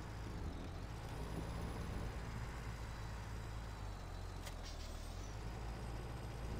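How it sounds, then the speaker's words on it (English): Kenworth T800 heavy haul truck in a video game, a steady low engine drone with a hiss of air brakes and faint tonal whine, continuous and without talk. "This truck here is by Serious Mods, Kenworth T800. It's a heavy haul."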